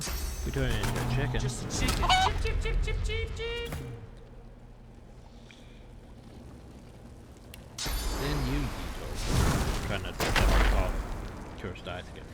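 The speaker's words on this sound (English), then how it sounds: "Then we turn it into a chicken." Chickens cluck in bursts in the Divinity Original Sin 2 video game, mixed with sharp combat impacts and someone talking over parts of the scene, with a quieter stretch in the middle.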